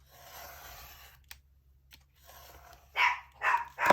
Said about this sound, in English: my dogs are barking